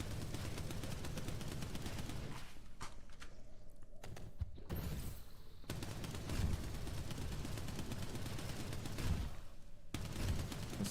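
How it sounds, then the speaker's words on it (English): Dense, continuous gunfire from the survival shooter game Surroundead as a player fires down a hole, rapid overlapping shots with short pauses and a few heavier thumps. "I'm just shooting down the hole."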